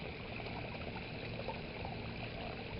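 Water washing paydirt down a sluice box at Cache Creek, Colorado, a continuous close rushing and trickling flow with no breaks.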